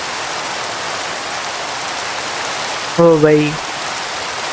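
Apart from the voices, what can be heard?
rain falling in a video game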